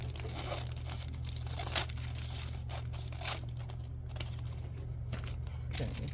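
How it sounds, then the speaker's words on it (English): Glued cardboard packaging is cut, giving close crinkling and tearing noises with scraping snips over a steady low hum. Nobody speaks. "let me cut this off, because I don't want this glue part"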